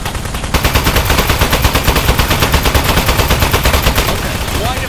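Rapid automatic gunfire from a weapon in the video game Aperture Desk Job, a dense unbroken stream of loud, evenly spaced shots lasting several seconds.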